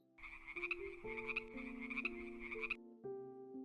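A frog croaks in a rapid, steady run for about three seconds over soft sustained background tones, pauses briefly, then croaks again, set within a calm bedtime sleep story.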